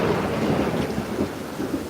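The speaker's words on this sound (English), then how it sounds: "Very, very intense thunderstorm." Thunder rolls through a New York City thunderstorm, a loud, sustained low rumble over steady heavy rain, continuous and close for the whole stretch.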